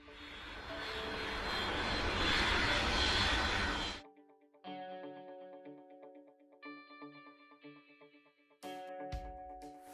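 A loud, steady airplane engine roar for a flight sound effect, cutting off suddenly and giving way to clear chime-like tones, then a brief burst of clatter near the end.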